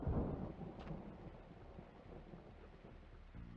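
Thunder and rain from the PS1 game Crash Bandicoot, a low rolling rumble strongest at the start that fades into steady rain-like noise, faint overall.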